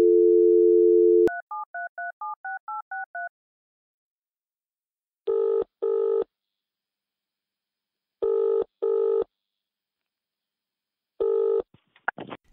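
A steady telephone dial tone plays, then a quick run of touch-tone dialing beeps, followed by three pairs of ringback tones with pauses between them, ending in a brief click and rustle as the call is answered.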